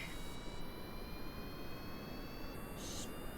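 Video game jet aircraft engine spooling up for takeoff on a runway, a steady broadband roar with faint high whining tones, constant and fairly quiet throughout.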